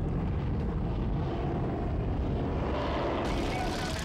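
A restored single-seat WWI Fokker D7 biplane flies at Old Rhinebeck in New York, its piston engine a steady loud drone that swells slightly toward the end.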